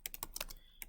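Brief, close keystrokes on a computer keyboard tap in an uneven rhythm, five or six crisp clicks with a short pause near the end and no voices.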